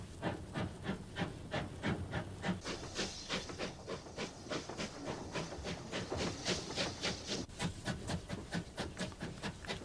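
A steam locomotive pulls away from a standstill, its exhaust chuffing in a steady, loud rhythm of sharp hissing blasts that quicken slightly as the train gathers way, with continuous steam hiss between beats.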